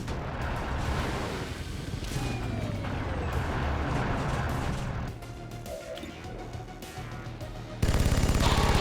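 A flanking shot in XCOM 2 rips out as a loud, dense burst of automatic gunfire with crashing impacts, easing somewhat before a final harsh blast at the end.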